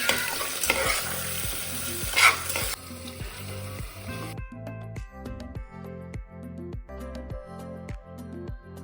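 Chicken sizzles in a hot pan and is stirred with steady, rhythmic scrapes of a spoon, loud and close, with the frying hiss dropping partway through; no one speaks.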